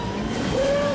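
A speeder bike from the Star Wars Kinect video game races through a jungle, giving a loud, steady engine whine that rises in pitch over about a second, with no voices.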